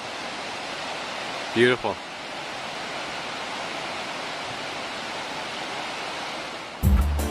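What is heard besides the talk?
River Tay flowing near Strathtay village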